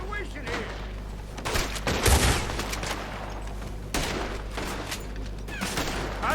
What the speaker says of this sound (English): Looks like we're shooting our way out of here, fellers.